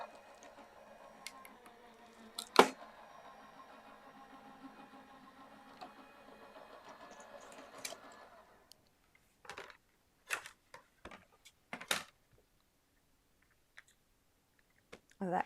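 A die-cutting machine rolls a cutting sandwich with plain white cardstock through its rollers, giving a soft steady mechanical whir for several seconds, then sharp isolated clicks and clacks as plates are handled.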